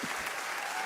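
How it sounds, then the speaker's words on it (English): A studio audience at a poker show applauds, a dense, even clatter of clapping that fills the short moment at steady loudness. "Crowd approves."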